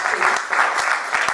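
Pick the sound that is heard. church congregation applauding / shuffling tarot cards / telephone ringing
church congregation applauding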